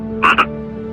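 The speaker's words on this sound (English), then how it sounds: "One little frog croaked in a feeble voice" A small frog gives two quick, close croaks in a row, loud and clear against a quiet, steady background hum.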